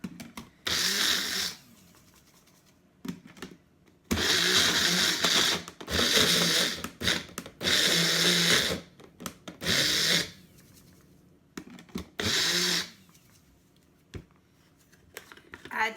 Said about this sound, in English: right into our magic bullet, put the lid on, and give it a quick zoom.